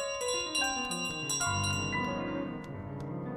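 Bell carried by the goose in Untitled Goose Game, ringing in bright repeated tones over a busy, loud background of chaotic game music that plays throughout.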